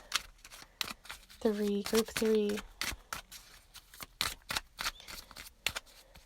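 Tarot cards being shuffled by hand, giving repeated sharp riffling bursts in an even rhythm close to the mic, while a person talks over part of it.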